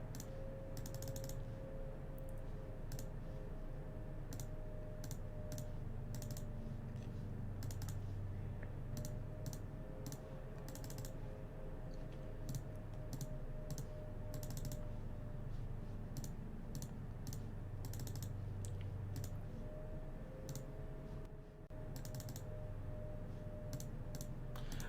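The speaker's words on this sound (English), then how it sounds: "Maybe I'll type in chat." Rapid keyboard typing during an online Magic: The Gathering match, steady clusters of key clicks over a constant background hum, no voices.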